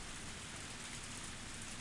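Steady, dense downpour in the Higurashi game, a continuous wide hiss of heavy rain with no breaks, close and even throughout, no voices.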